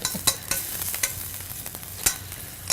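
Ingredients sautéing in a pan, continuous sizzling broken by sharp clicks and scrapes of stirring, several of them standing out.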